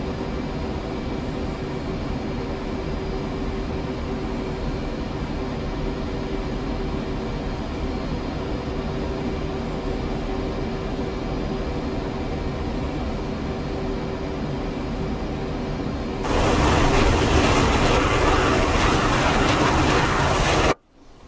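Jet aircraft roaring through a flight simulator game, a steady loud broadband engine rumble that holds for most of the stretch, then jumps to a harsher, brighter full-band blast near the end before cutting off abruptly.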